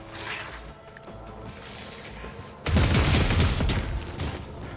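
Gunfire in the video game Rogue Trader, a sudden loud burst of blasts and rattling impacts that breaks in after a quiet ambient stretch and keeps roaring to the end.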